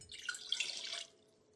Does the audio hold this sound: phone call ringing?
no